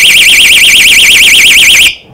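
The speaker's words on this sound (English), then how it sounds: "So now they've got the door wedged and the alarm going off." A door wedge alarm shrieks as a door opens, a loud, piercing warbling siren that wavers rapidly up and down without pause for about two seconds before cutting off abruptly.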